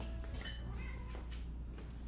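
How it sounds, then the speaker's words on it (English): A pet cat named Evie gives a couple of short, close meows with a soft, slightly strained tone over a low steady hum. "She meows, but she doesn't want to be picked up."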